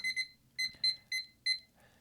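A kitchen timer beeps in short bright pairs and single chirps as its buttons are pressed to set the time, several quick electronic beeps spaced irregularly, close and alone.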